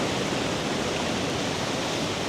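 Steady roar of ocean waves breaking on a sunny coastal beach, a dense continuous wash of surf filling the scene without pause, close and loud with no voices.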